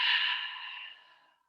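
A single long, breathy yoga exhale through the mouth, close and fairly loud at first, then tapering smoothly to silence over about a second and a half.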